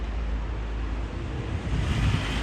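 Steady broadband rush of river water at a rafting end point in Kullu, a continuous full roar with strong low rumble and no clear breaks, carrying on evenly throughout.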